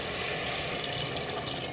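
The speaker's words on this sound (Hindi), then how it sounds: "अब मैं इसमें हस्बे ज़रूरत इसमें पानी डालूँगी।" Water poured into a pot of browned meat while cooking aloo gosht, a steady rushing splash and sizzle running continuously without pause.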